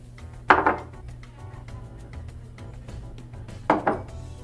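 Chicken, about 2 to 3 pounds, being tossed with coffee grounds in a bowl: two bursts of clattering, scraping contact a few seconds apart over a low steady background hum, close and moderately loud.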